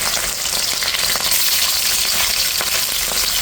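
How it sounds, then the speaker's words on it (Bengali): Six pieces of marinated fish frying in hot oil, with a steady, loud, dense sizzle and crackle that holds throughout without pause. "এখানে আমি 6 পিস মাছ ভেজে নিচ্ছি।"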